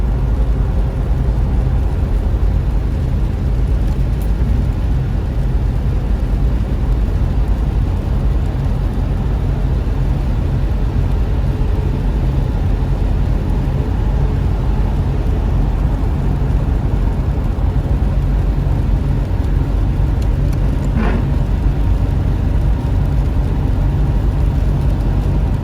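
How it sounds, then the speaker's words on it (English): Two huge army tanker trucks roll past on a rainy Vancouver road, a constant heavy engine and tyre rumble that stays loud and steady with wet road noise. "Two huge army tankers going on its way to Abbotsford"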